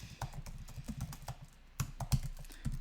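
Computer keyboard keys clatter in quick, uneven bursts as code is typed, close and clear with short pauses between flurries of keystrokes.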